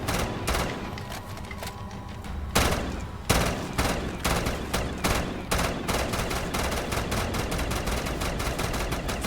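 The H115 fluctuator, a gun in a Call of Duty custom zombies map, fires in dense rapid bursts, loud and nearly continuous, with sharp repeated shots across the whole stretch.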